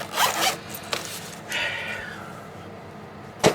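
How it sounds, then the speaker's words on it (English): A zipper runs closed on a pencil set case, with a couple of quick rasping pulls followed by one longer zip, close and clear, ending in a short sharp tug. "I'll just kind of zip these up quick."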